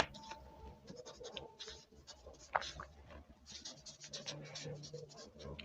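Pen or marker scratching out handwritten notes for an engineering science moments problem, a steady run of soft strokes with faint background hum, no talking.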